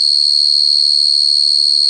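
Crickets chirp in a continuous, steady high-pitched trill, loud and unbroken throughout, with a brief faint murmur near the end.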